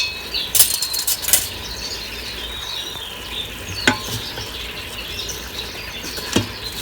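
Chopped onions and garlic sauté in an Instant Pot with a steady soft sizzle. Several sharp spoon scrapes and clatters from stirring come through up close, with no talking.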